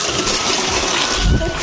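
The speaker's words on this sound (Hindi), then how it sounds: "संगवारी हो नल खुल गए हवे है ना" Water gushing from a household tap that has just opened, a splashing rush under a voice, with a louder burst of splatter near the end.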